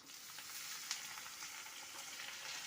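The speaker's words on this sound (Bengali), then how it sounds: "আলুগুলোকে একটু ফ্রাই করে নেব তেলের মধ্যে" Potatoes and grated squash fry in hot oil with a soft, steady sizzle and crackle, fairly faint and continuous, with a few brief pops and no talking.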